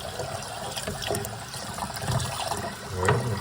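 Running water pours steadily into a container of sugar to make syrup for honeybees, a continuous splashing fill heard up close with no talk.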